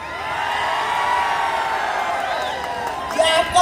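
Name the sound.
political rally crowd cheering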